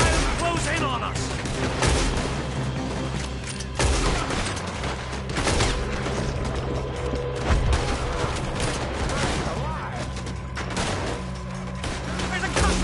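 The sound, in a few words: gunfire in the video game Red Dead Redemption 2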